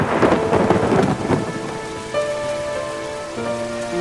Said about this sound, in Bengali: ঠিক তখনই শুরু হলো বৃষ্টি